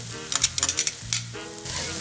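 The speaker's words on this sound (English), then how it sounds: "The shallots, you don't want them brown, but you want them nicely sauteed" Shallots sauteing in a pan for a Swiss veal Geschnetzeltes, a steady close sizzle with soft crackles and a few stirring scrapes over two seconds.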